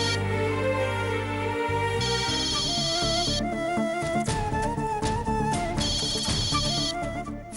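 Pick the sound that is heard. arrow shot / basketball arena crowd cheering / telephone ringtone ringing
telephone ringtone ringing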